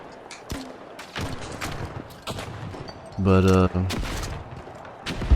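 Grenade launcher shots in The Finals: a series of sharp thumping blasts spaced irregularly across the span, one brief tonal buzz in the middle, with a voice briefly speaking.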